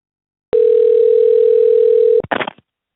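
A phone call sounding a single steady tone for under two seconds, clear and close, then cut off by a brief click and a short burst of noise.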